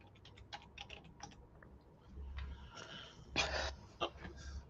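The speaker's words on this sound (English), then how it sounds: "he's typing out a nasty message to what?" Quick bursts of key clicks from typing on a computer keyboard, close and fairly quiet, with a short pause and uneven rhythm, plus some breathy background noise.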